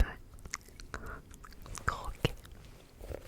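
Small squares of chocolate crunched close to the mouth in a quiet setting, a few soft crisp bites and chewing sounds mixed with faint breathy whispering.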